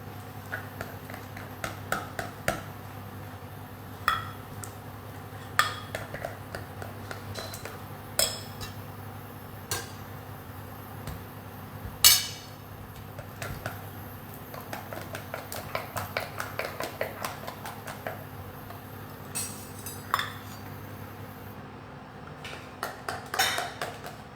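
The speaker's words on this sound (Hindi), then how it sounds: "इसी बैटर में हम डालेंगे कोको पाउडर, और इसे अच्छे से मिक्स कर लेंगे" A spoon stirs cocoa powder into cake batter in a bowl, giving sparse, scattered clinks and light taps against the dish over a steady low hum, with long stretches of quieter scraping between the sharper knocks.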